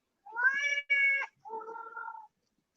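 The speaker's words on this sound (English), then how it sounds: "Your cat wants your attention." A house cat named Callie gives three close, clear meows for attention: two quick rising calls, then a lower, longer one after a short pause, with no voices over them.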